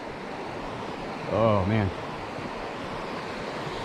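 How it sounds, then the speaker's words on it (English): A small creek flows outdoors as a steady broadband wash of running water, mixed with some wind. Someone speaks briefly over it. "nice little creek down here"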